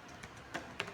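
Computer keyboard typing while a file is created for a React JS app: three or four light, separate key taps over a steady room hiss, close and quiet, with no talk.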